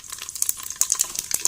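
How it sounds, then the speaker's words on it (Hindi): Whole cumin, fennel and mustard seeds crackle in hot olive oil, close up, with a steady stream of sharp pops and sizzling spits bursting irregularly and alone. "ये हमारे मसाले जो हैं ये कड़कड़ा रहे हैं, ये आप इसकी आवाज़ सुन सकते हैं"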